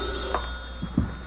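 A telephone rings in an old radio comedy set in a family home at night, a short burst of bell ringing heard alone over a steady background hum.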